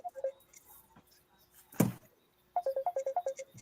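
A mobile phone ringtone chimes in a fast repeating melodic pattern, fairly faint in a meeting room, with a brief thump in the middle before the tones resume.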